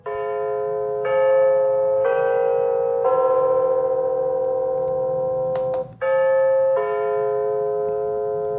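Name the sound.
WiFi LED clock chime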